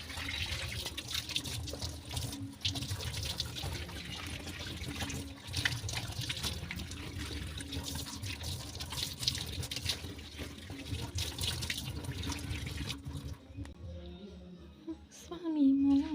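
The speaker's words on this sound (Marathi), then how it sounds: "आता ही सगळी पानं मी छान धुवून घेते" A tap runs steadily as fig and jamun leaves are washed under it, a continuous splashing hiss lasting most of the time before tapering off near the end.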